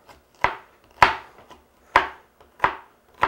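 A knife chops a torn-apart onion in a kitchen, striking the board in five sharp, evenly spaced thwacks, each a crisp hit with a short fading tail, close and alone without any talk.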